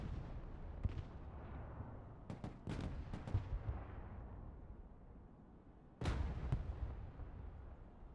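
An M1 Abrams tank fires in the Broken Arrow war game, booming cannon blasts and sharp gunfire cracks rolling out over a low battlefield rumble, with one heavy shot standing out near the end.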